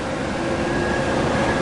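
Bay Area commuter train running along the rail line, a steady close rumble of wheels and car noise filling the whole moment with a faint whine on top.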